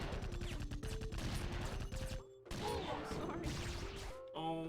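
Enemy gunfire in the video game IJI, with rapid bursts of shots and impacts crackling over a steady game music bed, dipping briefly before the shooting resumes.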